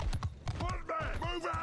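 Clopping hooves of horse archers in Mount & Blade II: Bannerlord, a rapid run of close hoofbeats heard under overlapping voices.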